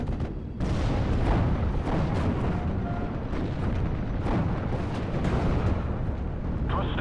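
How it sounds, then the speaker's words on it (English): Artillery fire in the WWII strategy game Steel Division Normandy 44: a dense, steady rumble of booms and blasts runs throughout, with sharper impacts popping out now and then. "I'm just gonna keep up the artillery fire and let the armor roll forward"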